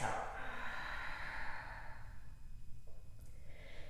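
A long, audible exhale of breath during yoga, a soft airy rush that fades over a few seconds against quiet room tone.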